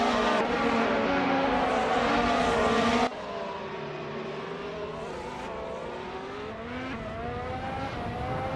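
McLaren MP4 race car engine in a racing game, a loud sustained high-pitched whine with shifting harmonic pitch as it revs and changes gear, with a sudden drop in level partway through.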